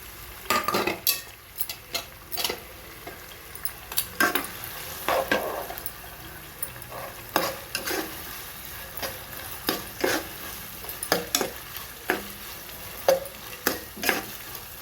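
Carrot pieces stir-frying in a pan, with a steady soft sizzle under repeated sharp scrapes and clinks of a metal utensil against the pan, close and fairly loud, with no talking.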